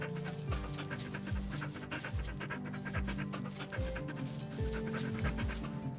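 Sled dogs in The Red Lantern video game pant rhythmically while being petted, with quick steady breaths close by and fairly quiet, set against soft background music.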